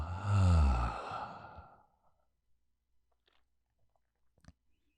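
A long, slow exhale after a held breath, close and soft, lasting about two seconds before fading into near silence broken only by faint small clicks.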